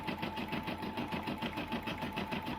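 A Brother combination sewing and embroidery machine with a 4x4 hoop runs steadily while stitching, giving a loud, close, rapid mechanical chatter with an even rhythm and nobody talking.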